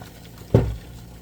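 A short splash of yarn dye liquid pouring out of an uncapped bottle, one brief gush that swells and quickly fades, close and fairly loud against a quiet room.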